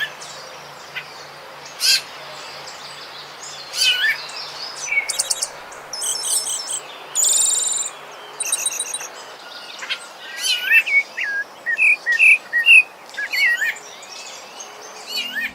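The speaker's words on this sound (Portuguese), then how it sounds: "O sabiá barranqueira é um dos mais vistos na região de Caratinga" A pale-breasted thrush (sabiá-barranqueiro) sings in the Caratinga region, loud and close, with varied whistled phrases and chirps in irregular bursts over a quiet background.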